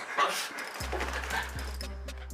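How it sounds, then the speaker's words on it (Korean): Several pet dogs in a house give a burst of high, excited barks and yips, then a whining, whimpering mix under a steady low hum. Nearby with mid loudness, with a faint voice mixed in. "아, 네, 짖어요. 엄청 짖어요."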